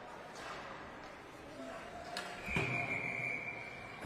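A referee's whistle blows play dead at a boys' high school ice hockey game, a single sustained shrill tone rising over distant rink crowd noise and an announcer talking.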